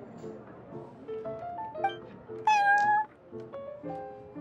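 Prince, a cat in the game Genshin Impact, meows repeatedly in short tonal calls, one longer and louder in the middle, close and clear against a faint background.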